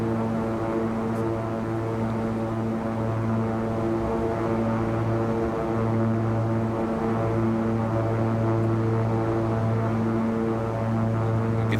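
A Beechcraft King Air 350 turboprop cruising in the X-Plane 11 flight simulator, a steady droning engine hum with strong tonal propeller whine, constant and unbroken throughout with no voices.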